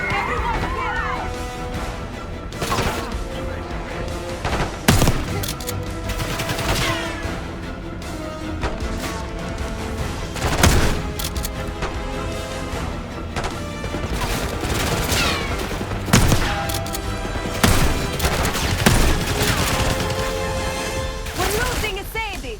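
Chaotic enemy gunfire in the shooter Black Ops 6, repeated sharp shots and bursts over a constant loud din of action, with voices shouting underneath throughout.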